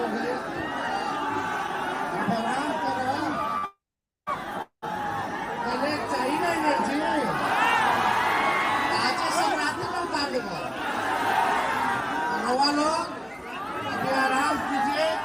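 Dense nighttime crowd at a Tejashwi Yadav political rally in Patna, a constant murmur of many voices with scattered laughter and shouts, loud and steady apart from a brief dropout near the start.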